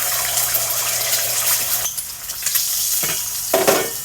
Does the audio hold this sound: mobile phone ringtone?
no